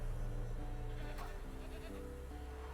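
A goat tied to a stake bleats once in The Witcher 3, a short wavering cry rising over steady game music and ambient hum.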